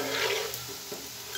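Food fries gently over a low flame in a pan and is stirred, a soft steady sizzle with faint scraping touches and no voices.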